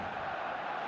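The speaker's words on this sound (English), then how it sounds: "the crowd level has gone up a notch or 10" Roar of a stadium crowd in an eFootball match with FC Barcelona, rising after a goal: a dense, steady wash of cheering that sounds loud and continuous throughout without any break.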